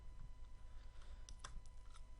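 Soft, quick clicks of arrow keys tapped on a computer keyboard, a short cluster of a few faint presses close up over quiet room noise.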